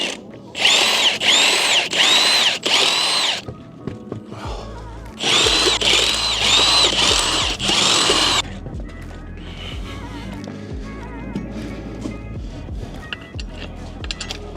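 A power tool drives car wheel bolts in loud bursts: about four short whirring pulses, a pause, then one longer sustained run, followed by quieter rustling workshop handling noise while a winter beater car gets its wheels fitted.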